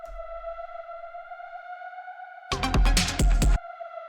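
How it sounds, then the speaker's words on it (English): A synthesized siren-like drone holds a steady F note with layered harmonics for breakbeat techno, ringing alone throughout while a brief burst of drum hits and noise cuts in near the end. "The next thing that we have here is this sort of like siren sound"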